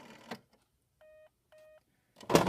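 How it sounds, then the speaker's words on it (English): A Western Electric 302 telephone on a PBX dialing 6: a soft click, then two short steady tone bursts about half a second apart, framed by brief handling noise at the start and end. "I'll just dial 6."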